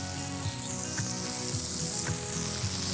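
Burger buns toast butter side down on a Mojave griddle, sending up a loud, steady, continuous sizzle close by with no talk over it.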